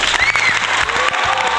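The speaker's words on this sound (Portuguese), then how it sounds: "Meus amigos, palmas." A crowd applauds loudly and continuously, dense clapping filling the short moment with faint cheering mixed in.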